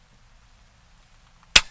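FX Impact MK III .35 caliber air rifle firing a pellet: a single sharp, close crack after near silence, with a short decaying tail.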